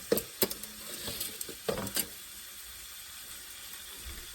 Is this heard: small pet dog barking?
no